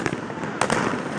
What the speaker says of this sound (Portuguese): fogos de artifício foram disparados contra o prédio do STF